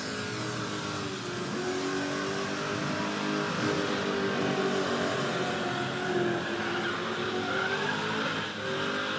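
A car doing a burnout at the Rockynats 06 burnout finals, engine roaring at steady high revs while the tires squeal continuously and loudly throughout.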